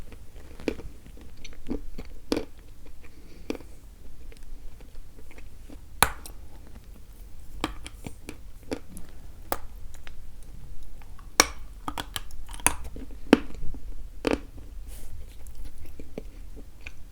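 A firm, dense chocolate candy from an Astana assortment being bitten and chewed close up, giving sparse, irregular crisp crunches and clicks over quiet background, with no talking.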